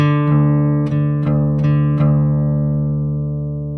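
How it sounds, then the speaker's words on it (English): Guitar D string and low E string plucked one after another, several sharp attacks over a sustained ringing chord, notes decaying slowly as they're compared by ear for tuning. "Play the D string first, let it ring out, and then play the low E string"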